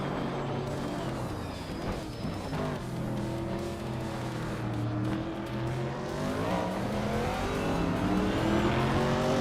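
A Ferrari 512 BBLM race car in a racing game, its engine wailing with rising and falling revs as it accelerates and shifts, loud and continuous with no talk.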